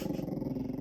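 A pet dog at home growls low and steady at another dog it has spotted outside the window, a close, continuous rumble with no voices over it.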